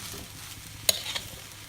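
Balinese fried rice being stir-fried in a pan over high flame, with a soft steady sizzle and one sharp scrape or clank of the spatula partway through.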